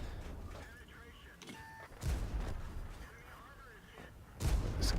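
Tank cannon shots in World of Tanks boom twice, moderately loud against a rumbling battlefield background, with a short pause between them and someone talking throughout.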